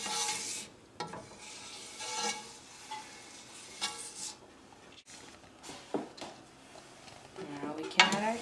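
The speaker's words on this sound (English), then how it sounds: "Now we can add our tomato." Tomato going into melted butter and spices in a pot for butter chicken, with scattered clinks of a utensil against the pot, soft stirring scrapes and a low sizzle between the knocks.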